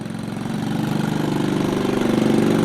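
The 125cc engine of an Army Jeep GR2 replica idles in a fast, steady putter that builds slightly louder and then holds even, close by and with no voices.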